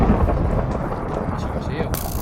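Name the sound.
thunder from lightning in a video game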